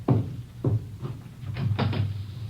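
Knocking at a back door, a few spaced raps followed by a quicker cluster of knocks, moderately close and fairly quiet.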